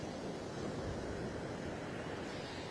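Surf at Wrightsville Beach on the East Coast: a steady, faint wash of breaking ocean waves mixed with wind noise, continuous and without pauses.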